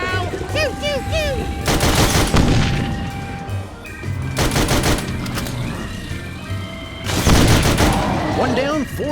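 Video-game gunfire in Sam & Max blasts a monster in three loud bursts of rapid shots, mixed with electronic warbling tones and game music.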